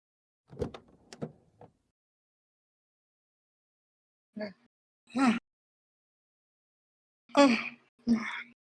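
A car's back door opens in a video game set on a quiet suburban street, heard as a few short, separate clunks and mechanical thumps spaced apart with silence between them.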